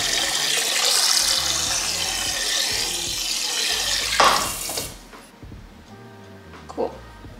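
Water runs and splashes steadily into a container to warm it up, a loud rushing pour that stops abruptly, leaving quieter room sound and a brief clunk.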